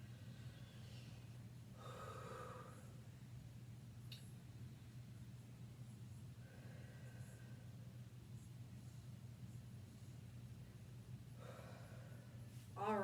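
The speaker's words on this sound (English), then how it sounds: "Let's take 3 deep breaths in." Three slow, deep breaths drawn in during a barefoot balance exercise class, each a soft, airy inhale spaced several seconds apart over a quiet background hum.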